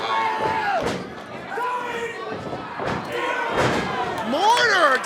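At a live wrestling event, a heavy slam lands as one wrestler hits another with a discus clothesline. Several loud thuds come over a reacting crowd, with a commentator talking throughout.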